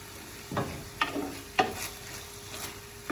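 Molasses being stirred into a beef cooking mixture for a jerk steak pizza, several soft wet scraping strokes spaced about half a second apart, quiet and close, with a faint steady hum beneath.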